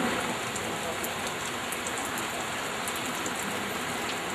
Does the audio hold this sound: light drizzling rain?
yes